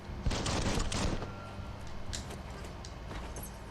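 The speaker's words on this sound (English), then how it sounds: "Oh, that's a shooting." A rattling fusillade of gunfire from the video game Biomutant fires in a dense burst early on, then fades into scattered faint cracks over a steady game ambience.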